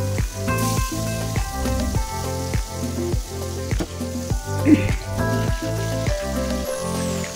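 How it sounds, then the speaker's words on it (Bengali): Fish coated in turmeric, chili and salt sizzle and crackle steadily in a hot wok, loud and close, with a few brief clinks over the frying and no talking. "এখন কড়াইতে দিয়ে দেব ভাজার জন্য"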